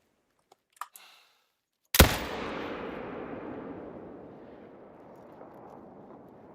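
A rifle shot in theHunter: Call of the Wild, fired at a whitetail deer at Leyton Lake, cracks once, loud and sharp after a few faint clicks, then rolls away in a long fading echo.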